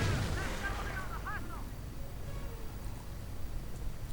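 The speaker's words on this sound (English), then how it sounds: "And already one mine has gone off." In a WWII strategy video game, a mine goes off with a deep, loud blast that rolls into a rumbling tail, followed by faint whistling and scattered battlefield noise.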